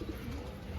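A junglee pigeon, one of a line pair, gives a soft, low coo, brief and close, over faint background noise.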